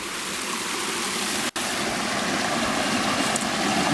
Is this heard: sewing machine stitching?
no